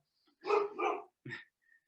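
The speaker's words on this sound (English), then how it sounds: "The dog's excited." An excited dog barks two quick times, then gives a shorter third yip after a pause, indoors at moderate distance with no talk over it.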